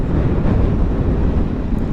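Wind rushing past the microphone while riding a Chetak 2024 electric scooter, a loud, constant low roaring buffet with no voices.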